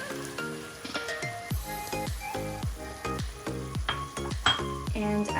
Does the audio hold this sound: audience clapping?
no